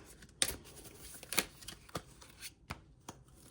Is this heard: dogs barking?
no